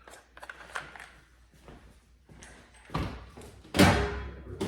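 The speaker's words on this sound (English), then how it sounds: "Let the bolt drop down." Bolt of a 3D printed Pistelle X.68 blaster dropping, a few light plastic clicks and taps followed by two sharper, louder clacks near the end, close by.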